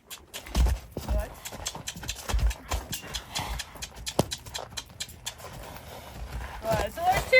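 A six-year-old mustang walks on the ground, its hooves giving soft, uneven clip-clop thuds at close range while a person talks over them.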